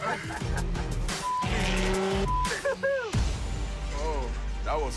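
A car drifts with squealing tyres and a revving engine, loud and close, rising and falling in sweeping bursts amid crowd-like noise and voices in the background.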